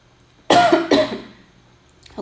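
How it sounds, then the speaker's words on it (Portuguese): Two sharp, close coughs in quick succession from someone who had choked on water, loud and harsh, followed by quiet. "Tô com uma tosse que, meu Deus do céu"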